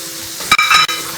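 French fries sizzling in hot oil as they turn golden, a loud close crackle with brief stirring clatters and no talking.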